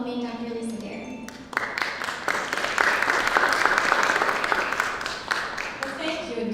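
An audience applauds to welcome a guest lecturer onto an academic stage, steady clapping swelling in after a spoken introduction and sustaining loudly for several seconds before tapering slightly.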